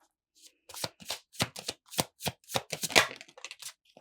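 A deck of playing cards is shuffled in a quick run of crisp riffling bursts, close and distinct, with a card drawn near the end, and no talking.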